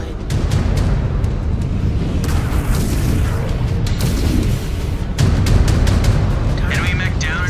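A destroyed enemy mech explodes in MechWarrior 5: Clans, heard as a loud, sustained rumbling boom with a fresh burst midway and crackling debris, over constant battle noise.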